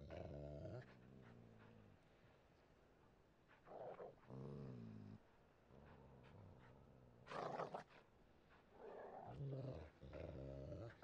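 Several dogs growl in a Witcher 3 game scene, low rumbling growls in repeated bursts separated by short pauses, close and fairly loud, with no voices over them.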